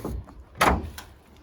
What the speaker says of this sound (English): There's a little door here